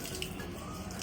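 Steady running water from a tap filling for a child's bath at home, a soft continuous hiss with faint splashes, quiet and unbroken.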